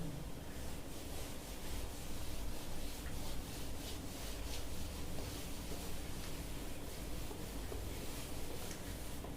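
A board is rubbed clean with steady, continuous scrubbing strokes, a soft even friction sound close by with no voices.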